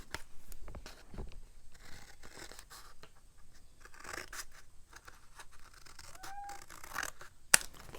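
Scissors snip repeatedly through bulky trash material being cut up for a journal, close and crisp short cuts with crinkly rustling between, a sharp click near the end.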